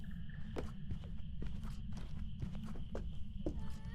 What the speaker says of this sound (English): Do you hear footsteps?